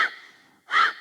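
Forceful, noisy exhalations during pulsing forward yoga movements, heard close: a fading breath at the start, then a strong, sharp puff after a brief pause.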